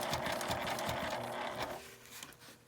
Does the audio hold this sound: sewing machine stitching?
yes